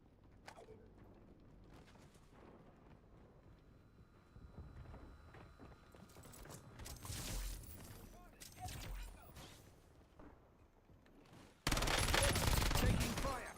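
Warzone video game gunfire: scattered distant shots and rattling bursts build up, ending in a loud, dense volley, with radio-style game voice lines in between.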